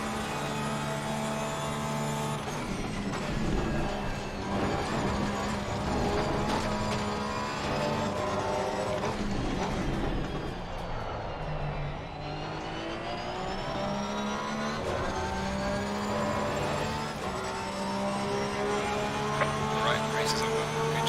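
A race car engine in a racing video game hums steadily with a sustained drone that slowly shifts in pitch while the car drives back to the pits at low speed, with no clear revving bursts.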